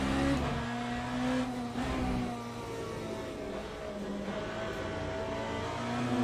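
Race car engine in the Le Mans Ultimate sim racing game, a steady droning tone that holds at high revs, with slight surges and dips as the car steps out under power and traction control catches it.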